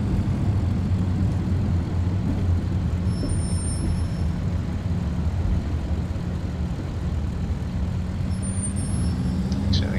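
An airliner in Flight Simulator X rolls along a taxiway at night, its engines giving a steady, loud low rumble with a continuous broadband roar and a faint high whine throughout.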